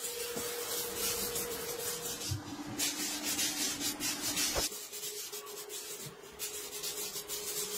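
An old tyre being polished during restoration, heard as steady rubbing and abrasive scrubbing with rhythmic strokes and brief pauses, close and fairly loud, with no voices.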